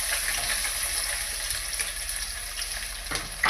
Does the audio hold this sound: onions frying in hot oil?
yes